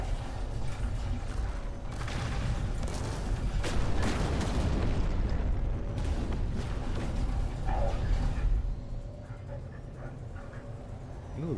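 Starship weapons fire during space combat in No Man's Sky, a dense run of booming blasts and mechanical bursts for several seconds, then easing into a quieter rumble.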